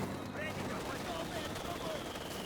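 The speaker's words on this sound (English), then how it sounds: "British sniper taking some shots" Sniper rifle shots from a British sniper in the World War II strategy game Company of Heroes 2, sounding as dull cracks set inside a dense, continuous wash of battlefield noise.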